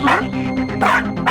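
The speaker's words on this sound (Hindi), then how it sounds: "ये एक टाइम पे 6 बार भौंकता है और उसके बाद बैठ जाता है।" A toy dog sounds a quick run of bright, electronic yapping barks, loud and close, in a brisk rhythm with short gaps between them.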